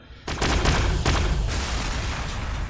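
Gunfire in the Warhammer 40k Sanctus Reach video game, a sudden loud burst of overlapping shots and booms that rings out and decays into a sustained rumbling wash.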